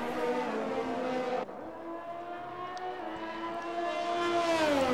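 Formula 1 race car engine in a video game at Imola, a loud high-pitched whine that shifts gear abruptly partway through, then climbs steadily in pitch as it accelerates, alone without talk.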